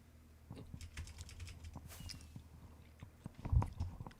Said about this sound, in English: a lot of chewing involved